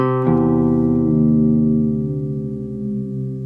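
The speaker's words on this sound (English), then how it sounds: "We need to lower our E string down an octave below that to match up with it." A single plucked low E guitar string rings out and sustains, its pitch dropping slightly as it is detuned toward drop C, fading gradually.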